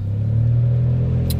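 A semi truck on the road nearby gives a loud, steady low rumble throughout, with a brief hiss near the end.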